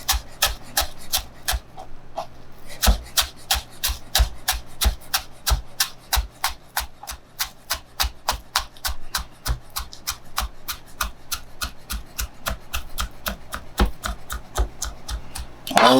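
A chef's knife slices through a bunch of chives on a cutting board in a fast, steady rhythm of crisp taps, dozens of evenly spaced cuts close up with no talking.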